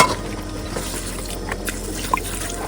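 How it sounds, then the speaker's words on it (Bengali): Water pours into a cooking pan of prawn and chicken, giving a soft, steady liquid trickle with a small splash near the end, fairly quiet and close. "এবার হালকা করে জল দিয়ে দাও"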